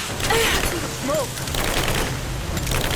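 Rapid bursts of gunfire in a Rise of the Tomb Raider firefight, dense and loud throughout, with shouted voices briefly rising over the shooting early on.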